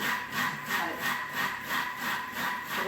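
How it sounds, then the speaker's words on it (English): A Thermomix TM5 whisking room-temperature egg whites for meringue at speed 4 gives a steady whirring churn that pulses in a quick, even rhythm, close and moderately loud, with no talking. "you can hear the egg whites in there making a funny noise"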